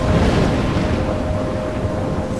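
Loud, steady roar of a thunderstorm in the video game Life Is Strange, a dense wall of rumbling wind and rain with a faint sustained tone running through it, continuous and unbroken throughout.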